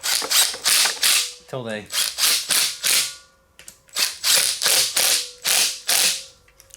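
An 18-volt cordless impact gun tightens ARP bolts on an aluminum small-bore stroker engine, hammering in a run of rapid, loud ratcheting bursts with brief pauses, and a voice speaks briefly in the middle.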